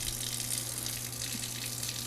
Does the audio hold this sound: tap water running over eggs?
yes